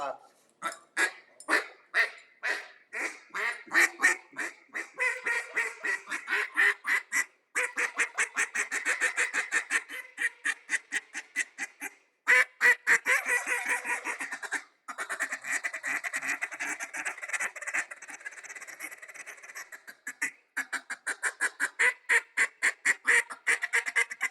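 A mallard duck call blown to imitate a hen mallard's quack, repeated in rapid rhythmic series of loud, nasal quacks with brief pauses between runs; the call is heard alone at close range.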